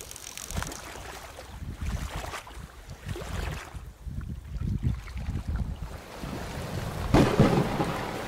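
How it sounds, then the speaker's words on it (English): Heavy storm blowing in off the ocean at a New Zealand campsite, with a continuous broadband roar of strong wind and driving rain, low rumbling gusts surging and easing, and a louder burst near the end. "a big storm blew in off the ocean"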